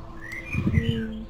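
Bird chirping ambience in a forest area of the game Dofus, a few short whistled calls over soft background hum, with a voice briefly heard underneath.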